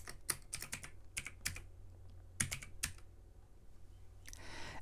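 Someone types a name into a form on a computer keyboard, with quick, close key clicks in short bursts separated by brief pauses.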